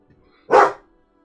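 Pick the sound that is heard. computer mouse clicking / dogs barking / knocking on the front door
dogs barking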